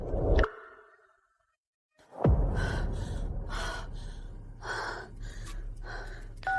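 A person gasps sharply, short of breath, with a sudden intake and then heavy, strained breathing that carries on to the end.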